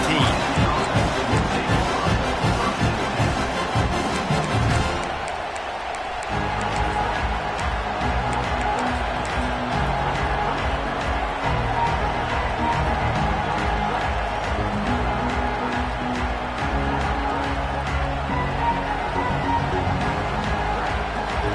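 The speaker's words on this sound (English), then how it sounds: "This crowd ready to make its presence known." A football stadium crowd at a Miami versus Oklahoma game roars and cheers as a sustained, dense wash of noise that dips briefly and then swells again, with a commentator talking over it.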